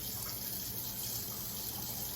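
Water runs steadily from a kitchen tap during pizza dough preparation, a constant, dense rushing that fills the whole stretch without pause or talk.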